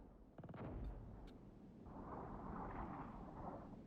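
Artillery fire striking a known position in Armored Brigade 2, a Cold War real-time strategy simulator at night: a couple of sharp distant booms followed by a low rolling rumble, fairly faint and with no talk.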